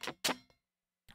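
A muted electric guitar note picked with the fret pressure let off gives two short, dry percussive chucks close together. A faint tick follows, then a brief scrape after a pause.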